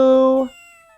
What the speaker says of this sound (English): Oh, what a lovely cat!